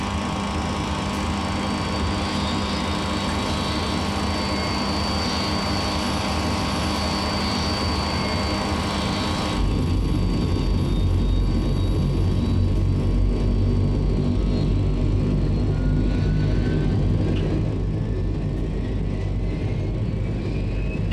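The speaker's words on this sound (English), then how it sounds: "Let's go ahead and start engine 4." Engine 4 of a Dash 7 turboprop spools up in Microsoft Flight Simulator 2020, a continuous whine with steady tonal hum that shifts into a louder, deeper rumble partway through and keeps building, with a rising pitch sweep later on.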